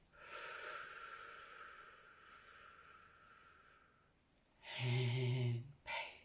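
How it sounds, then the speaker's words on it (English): A long, deep breath is drawn in during a calming tapping exercise, a soft airy inhale lasting several seconds, followed by a louder voiced exhale and a short final breath, close and intimate. "big deep breath in"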